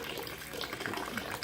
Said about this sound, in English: transferring water from my hot liquor tank over to my mash tun